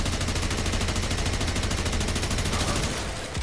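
Rapid automatic gunfire from the video game Warframe hammers out in a fast, even rhythm of loud shots, sustained through the whole stretch without pause or voices.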